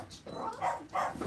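A streaker on the field during a 1960 Phillies at Pirates baseball game imitates a dog, giving a few rough, rhythmic bark-like shouts that rise over crowd and announcer talk.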